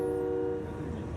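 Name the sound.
truck honking at convoy protest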